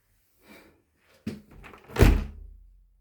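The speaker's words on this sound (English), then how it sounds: "I'm preventing it by closing it for a minute" A loose, nearly broken door swings shut at home: a soft knock, then a sharp clack and a heavy thudding slam with a brief rattle after, close and loud in a quiet room.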